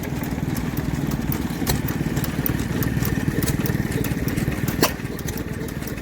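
A Fairbanks Morse stationary engine runs at a steady, busy chug at an outdoor vintage rally, loud and close with a dense mechanical clatter and a few sharp knocks over constant background noise.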